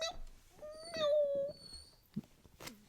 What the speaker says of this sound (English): I think I should let the dog up really quick.